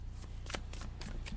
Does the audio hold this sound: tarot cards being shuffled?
yes